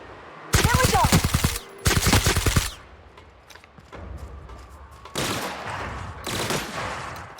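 Rapid bursts of automatic gunfire in The Outer Worlds video game, two loud volleys followed by quieter scattered shots and a later pair of bursts, with distant combat in between.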